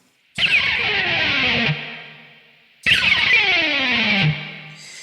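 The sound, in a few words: electric guitar pick slide down the D string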